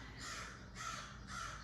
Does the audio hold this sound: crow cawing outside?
yes